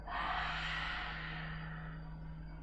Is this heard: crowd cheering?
no